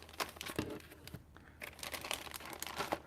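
Thin plastic bags holding Hasegawa tools crinkle and crackle close up in quick, irregular bursts, with no talking over them.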